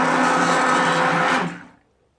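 A stick blender whirs steadily as it mixes lard soap batter for a gardener's cold process soap, then winds down and stops, loud and close with no talking.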